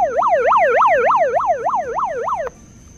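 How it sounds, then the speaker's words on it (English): Bullhorn megaphone siren wailing in a fast rising-and-falling cycle for about two and a half seconds, loud and close, then cutting off abruptly into quiet room noise. "And then it also has a siren."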